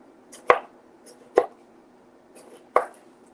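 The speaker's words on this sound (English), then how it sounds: "I'm just gonna cut slices." A Pampered Chef knife cuts slices through halved fruit on a cutting board, three sharp chops spaced about a second apart, close and distinct with quiet between them.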